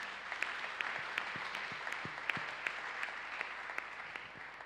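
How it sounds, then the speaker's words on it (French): A church congregation claps during a worship service, a dense, steady patter of many hands heard at moderate volume from across the room, with no one speaking over it. "Acclame Jésus"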